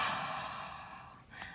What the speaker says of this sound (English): One breath in.